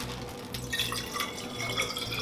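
Water being poured into a glass vase, a steady gurgling stream with bright splashy drips, continuous and moderately quiet throughout.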